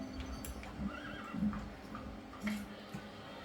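A toy horse from a board game neighs, giving a few quiet whinnying calls alongside light clip-clop taps over a faint steady hum.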